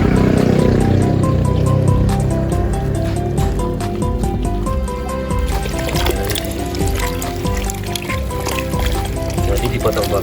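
Sliced carica fruit mixed with salt is washed in water, giving continuous splashing, sloshing and trickling close by, with people talking over the water throughout.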